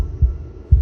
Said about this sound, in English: a wooden and fleshy heart beating with an unbroken rhythm